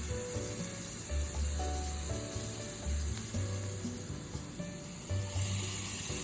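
Garlic sizzling in olive oil over low heat while being stirred with a spatula, a close, steady crackle with soft scraping strokes and a low hum in the background, no talking.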